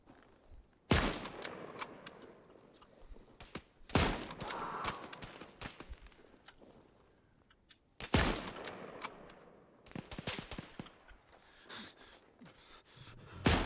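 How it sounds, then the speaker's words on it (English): Gunfire in the Antistasi Ultimate shooter on a Takistan map: several loud, sharp bursts and single shots ring out at irregular intervals, with quieter distant shots and echoes between them and no talking. "I should actually be able to shoot this down"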